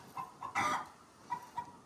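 Chickens kept on deep litter in a coop on a farm in Ghana cluck in short, scattered bursts, with one louder squawk among the softer clucks, fairly close and with no voices.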